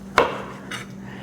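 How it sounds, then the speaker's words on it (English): A knife cuts tomatoes on a board in a home kitchen: one sharp knock of the blade hitting the board, then a softer second tap, over a steady low hum. "I'm going to cut the tomatoes"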